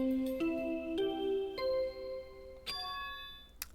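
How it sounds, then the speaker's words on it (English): A bell chime from the Danganronpa 2 video game announcing a body discovery: a series of clear, ringing tonal strikes with sustained harmonics, moderately loud and alone, fading between hits. "That bell just now."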